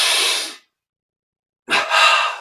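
Two breaths drawn in through the nose during a breathing exercise: a close, airy inhale that fades out, a second of silence, then another inhale taken in two quick stages.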